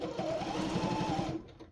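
A Janome 7330 sewing machine stitches in a rapid, even mechanical chatter, close and moderately loud, running continuously before easing off at the end.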